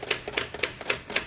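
Brisk, even typing on a 1956 Olympia SF travel typewriter, about nine crisp key strikes with sharp clacks heard close and alone at a quiet level.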